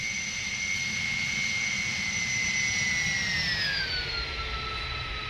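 Airbus A300 SuperTransport in a flight simulator game, steady loud jet engine roar with a high whine that slowly drops in pitch as it comes in to land on the runway.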